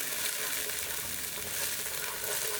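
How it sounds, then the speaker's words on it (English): Chopped onion and white parts of green onion frying in olive oil in a non-stick skillet over medium-high heat, giving a steady, bright, continuous sizzle with no talking. "In a non-stick skillet on medium-high heat, add a bit of olive oil, your chopped onion, and the white parts of your green onion"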